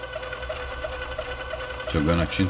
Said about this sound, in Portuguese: ele começa a preparar novamente o sistema de tinta, pede para guardar, tá jogando a tinta